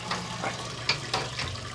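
Hot mash water drains and splashes out of a lifted grain basket during home brewing of a best bitter, a steady trickling pour with irregular drips and small gushes, close by, with no talk.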